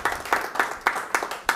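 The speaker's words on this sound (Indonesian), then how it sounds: "Berikan sorak-sorai buat Tuhan." Applause from a church congregation, rhythmic unison clapping at a steady beat, fairly close, with little else audible.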